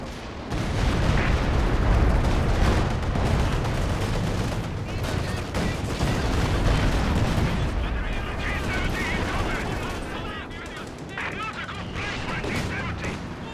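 Artillery fire booms through a Company of Heroes 2 battle, a dense, loud barrage of overlapping gun blasts and explosions that runs continuously and eases slightly toward the end.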